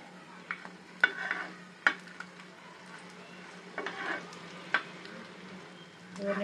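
Potato snacks fry one at a time in a pan on a low flame, giving a steady close sizzle broken by a few sharp clinks and scrapes of stirring.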